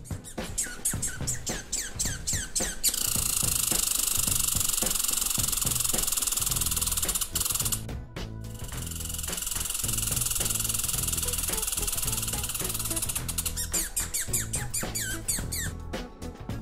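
Squirrel calling with rapid, high-pitched squeaky chatters and sustained buzzy trills, close and fairly loud, broken by short pauses and bursts of clicking.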